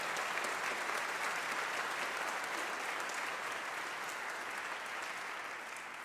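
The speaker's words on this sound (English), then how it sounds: "let's give a hand to the people here at Stambaugh Auditorium for housing such an event" A large audience claps steadily in Stambaugh Auditorium at a Tuba Christmas concert, a dense, even wash of applause that holds for several seconds and tapers slightly at the end.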